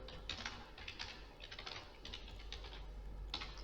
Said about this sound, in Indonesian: Ketik di alamat